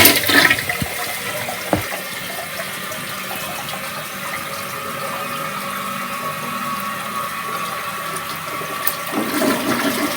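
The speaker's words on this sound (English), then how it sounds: "Does it flush okay?" A hotel toilet flushes close by in a run-down New York hotel: a loud initial rush gives way to a long, steady gush and refill hiss lasting around ten seconds, with no speech.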